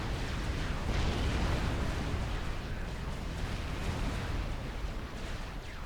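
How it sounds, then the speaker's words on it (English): Dense, continuous rumbling explosions roll on from a missile ship bombardment in Supreme Commander: Forged Alliance, a thick wall of booms and bursts throughout with no pauses. "yet another air factory goes down to the missile ship bombardment"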